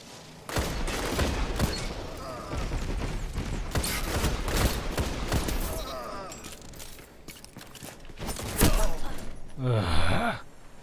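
Repeated shotgun blasts from Destiny 2 gameplay come in dense bursts across the clip, loud and close, mixed with other combat noise and a voice reacting.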